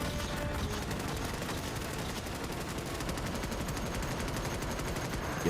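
Sustained automatic gunfire from a weapon with heavy recoil in the game Starship Troopers: Extermination, a loud, continuous rattling stream of shots with no pause.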